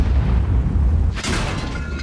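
A tank's ammo rack detonates in World of Tanks, a heavy, loud boom bursting over a low engine rumble, followed by a sustained roar and crackle as the blast fades.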